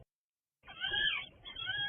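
A kitten meows repeatedly in a played kitten rescue video, a close, loud run of high, wavering cries after a moment of silence.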